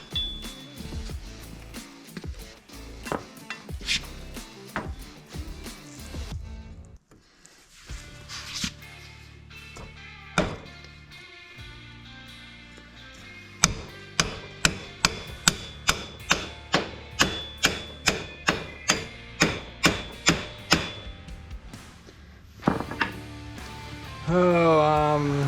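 Light hammer taps knock apart parts on a Kubota tractor under restoration, a rapid run of sharp, close metallic strikes at an even rhythm with scattered clanks before it and a voice talking at the start.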